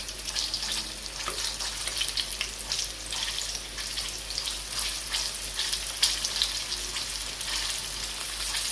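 Chicken wings frying in oil infused with pepper and garlic, giving a steady, faint, crackling sizzle that runs throughout without any talking.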